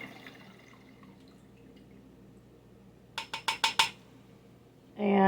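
Water dripping and splashing off a lump of freshly made homemade butter into a bowl, a quiet trickle followed by a quick run of five sharp drips and a louder pour at the end.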